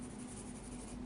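Steady scratching of a pen or marker on paper as someone sketches a bearded face, a continuous soft scraping at close range with a faint steady hum underneath.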